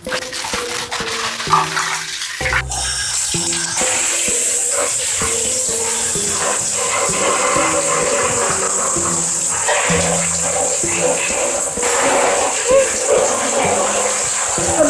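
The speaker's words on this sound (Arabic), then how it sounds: "احنا عايزين نغسل حاجات البحر" Tap water runs steadily while seafood is washed in a home kitchen, a continuous rushing hiss throughout, with children's voices and other sounds over it.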